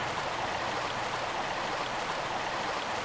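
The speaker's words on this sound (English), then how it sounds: "Okay, so we have a river" Steady rushing river water from the 1996 video game Tomb Raider flows in an even, broadband wash, constant and moderately loud with no other sounds or voices.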